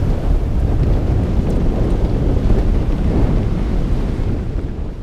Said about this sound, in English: the wind is catching the head sail